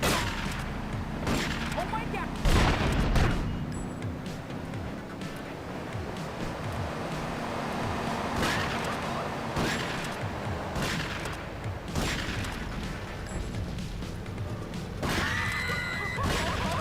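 Gunfire from the video game GTA III, a dense chaotic game soundscape with repeated sharp shots and crashes throughout, bursts sounding loud over continuous background noise and engine-like rumble.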